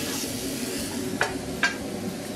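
Spaghetti bolognese cooks for dinner in a home kitchen, a steady close sizzle and hiss with two sharp clicks of a utensil against the pan, no talk.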